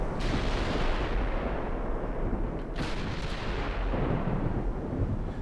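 Heavy naval guns of the battleship Fuji in a naval warfare game boom in a continuous, loud rolling roar of overlapping blasts and rumble, with no voices over it.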